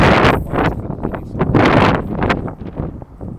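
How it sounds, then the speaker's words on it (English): Wind blows hard into the microphone outdoors, loud irregular gusts that thump and rumble in bursts, easing toward the end, while a person talks underneath. "the wind just picked up."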